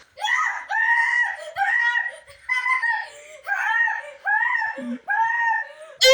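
A child yells loudly into a speaker in a series of high, strained shouts broken by short pauses, close and harsh, with giggly, cry-like edges.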